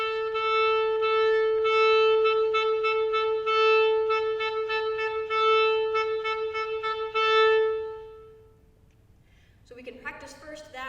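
A clarinet holds a long sustained B note, tongued repeatedly in a steady rhythm of short separated pulses, then fades out before a brief voice.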